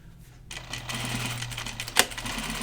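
A sewing machine stitches backpack pieces in a steady run of close, even needle strokes, with a brief sharp knock near the end.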